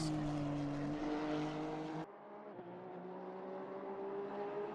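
In a racing video game, a Honda NSX GT3 race car with a 3.5-liter V6 of around 500 horsepower drones at a steady high pitch, then drops to a lower tone partway through, faint and without talk.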